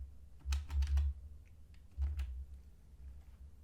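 Typing a name into a software dialog on a computer keyboard, with two short bursts of clicking keystrokes separated by a pause, close and fairly quiet.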